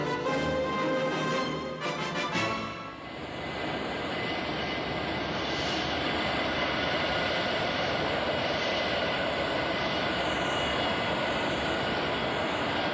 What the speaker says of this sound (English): This is the F-111, a fighter bomber that has seen action in Vietnam and in the Persian Gulf.